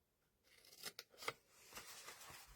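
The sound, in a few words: scissors cutting paper for a gift box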